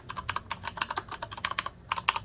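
Typing on a Rosewill RK-9000V2 mechanical keyboard with Cherry Brown switches: a steady, fairly close run of crisp key clacks in quick irregular bursts, heard on their own with no talk.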